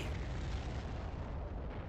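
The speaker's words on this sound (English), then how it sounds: "So now it's gonna blow up from the inside." The final boss in the Star Fox Assault video game blowing up from the inside, a loud sustained roaring rumble that fills the whole moment and slowly fades toward the end, with no voices.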